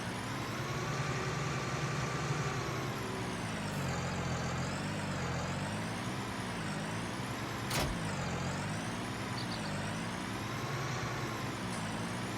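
A tractor engine in Farming Simulator 19 drones steadily, its pitch swelling and dipping with the throttle, with a single brief hiss partway through and no voices.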